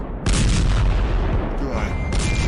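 Artillery fire in the World War One strategy game Strategic Command WW1 (Icarus mod), heard as a loud, continuous rumbling barrage of booms that fills the whole clip.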